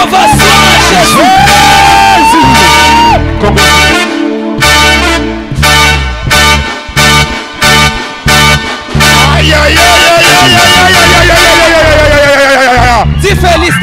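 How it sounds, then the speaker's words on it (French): A church congregation at a New Year's Eve service gives Jesus a loud ovation, yelling, whooping and cheering in surging bursts that rise and fall, with brief pauses between waves. "Ovation à Jésus."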